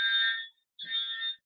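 A fire alarm sounds in two loud, piercing electronic tones with a short gap between them, close by and steady.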